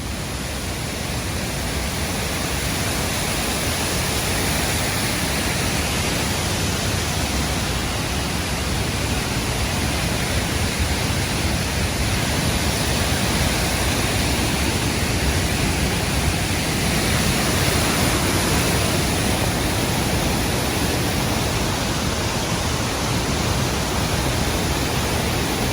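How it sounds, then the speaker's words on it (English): A waterfall roars in long, unbroken cascades, a loud, dense, steady wash of falling water heard from a lookout, with no other sounds breaking through. "So I've climbed a little ways up to get the best view I can of some of the waterfall"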